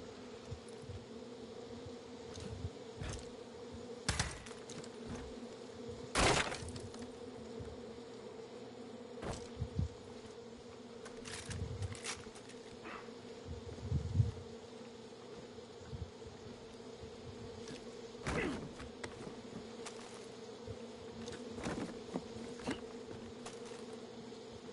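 Beehive buzzing in Far Cry 5, a steady low drone of bees hanging over a quiet backdrop, with scattered clicks and soft knocks breaking in now and then across a long stretch without speech.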